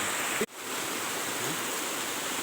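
Water pours steadily from the village spring of Pantan Senaku in a loud, dense rush that briefly drops out for an instant, then resumes unbroken.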